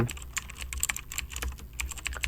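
Keys clatter on a computer keyboard in short irregular bursts while a search term is typed into a YouTube page, close and fairly quiet with no speech.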